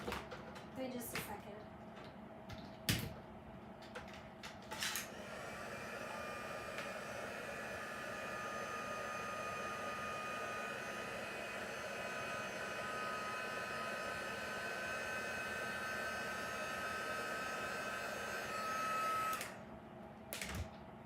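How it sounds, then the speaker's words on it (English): A corded heat tool blows steadily for about fourteen seconds, drying a craft card, a continuous airy whine with a faint tonal hum, switched on after some brief clatter and cut off near the end. "heat tool and I'm just gonna plug in. I'm gonna dry this real quick."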